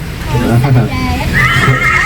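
Horse neighing from a tour bus in Bandung, a loud close whinny with wavering, quavering pitch lasting about two seconds, set against background noise and voices.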